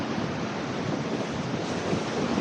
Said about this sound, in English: The wind's really picked up